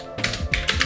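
A few quick keystrokes on a computer keyboard followed by a firmer press of the enter key, close and crisp with no talking.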